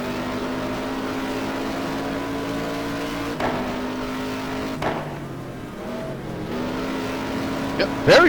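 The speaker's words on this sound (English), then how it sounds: "John Watson sliding his car into the turns" Race car engines from a racing video game at the Suzuka circuit, a steady high whine with pitch shifts as cars brake and downshift into turns, several cars close together, a commentator's voice over the engine drone.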